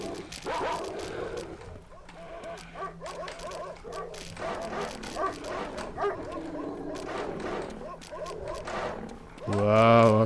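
Several dogs bark and yip again and again as they chase the player across a night level in the video game Dark Skies 2, the barks loud and overlapping with someone talking over them.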